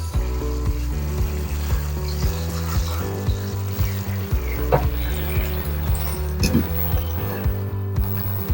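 Eggplant stir-frying in a pan with oyster sauce and sugar, a steady close sizzle with rhythmic scraping and stirring clatter throughout, no voices.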